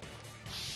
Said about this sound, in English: The killer smashed the monitor to pieces,